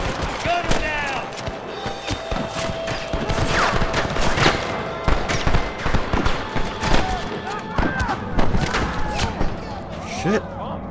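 Gunfire in Red Dead Redemption as a guard is gunned down: repeated sharp shots in irregular bursts over a busy, noisy firefight, with voices talking and shouting throughout.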